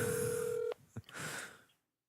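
A telephone call is placed, with a steady dial tone cut off by a click, then a short burst of ringing or line tone that fades to silence.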